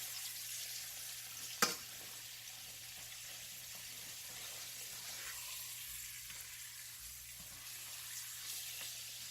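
Pork chops sizzle and fry steadily in a hot pan for smothered pork chops, a soft continuous hiss broken by one brief sharp clatter near the start, with no talking.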